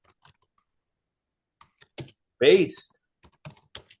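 Typing on a computer keyboard, sparse quiet clicks and short bursts of keystrokes broken by silences, with a brief spoken word in the middle.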